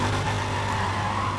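Racing cars in the video game Need for Speed: World, a loud, steady engine drone with a constant rumbling roar and whining harmonics that hold throughout, up close with no talking.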